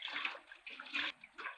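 A small waterfall runs by a river, giving a steady, soft wash of flowing water with gentle splashing surges, fairly faint and distant, with no voices.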